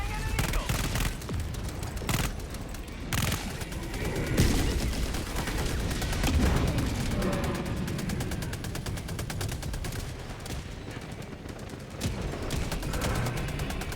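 A sentry turret in Helldivers 2 keeps up rapid bursts of gunfire with scattered heavier booms, loud and continuous over a battle din.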